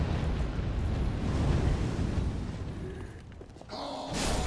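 Fire pillars erupt in Dark Souls 3 as a sustained, loud, roaring rumble with a broad whooshing body that dips briefly, then surges back with a fresh burst near the end.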